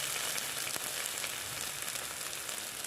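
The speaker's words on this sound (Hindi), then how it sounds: "अब देखिए ये मसाला मैं फ्राई कर ली हूँ अच्छे से" Masala sizzling in oil in a pan for stuffed bitter gourd, a steady bright crackle that runs the whole time, close and fairly loud, with no voices.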